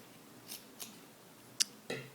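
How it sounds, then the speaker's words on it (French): Scissors snipping through a small doll's t-shirt fabric, four separate crisp cuts spaced unevenly, close and fairly quiet, with no talking. "vous allez couper donc jusqu'au milieu du dos"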